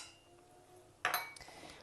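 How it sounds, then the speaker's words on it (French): Salt and sugar go into a mixing bowl of flour for a strawberry tart, a quiet pause ending in a few sharp clinks of bowl and utensils. "Ensuite je vais rajouter le sel et le sucre."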